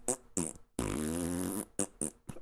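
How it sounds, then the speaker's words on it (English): A Furby toy makes a run of electronic farting noises: short buzzy blasts, then one long sustained raspy fart, then more quick bursts, loud and close with no talking. "I could fill that time up by having the Furby make a bunch of farting noises"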